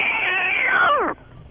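A man imitates a cat with his voice, giving one long drawn-out meow that falls in pitch and then cuts off abruptly, loud and close.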